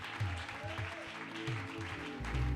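A church congregation applauding during a Christian worship service, with sustained clapping beneath music and voices, moderately loud and swelling toward the end.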